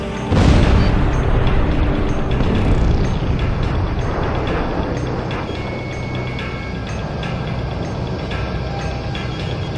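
In Ace Combat Zero, a loud bomb blast in a burning city opens into a long rolling roar of further explosions, then settles into a dense, sustained rumble.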